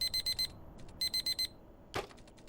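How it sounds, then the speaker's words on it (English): An alarm clock in a video game blares in two bursts of rapid, evenly spaced electronic beeps, with a short gap between them, then a sharp thump near the end, fairly quiet and with no talking. "the alarm blares out of nowhere"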